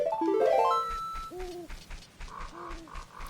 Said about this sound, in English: you can hear the little wildlife, the owls and such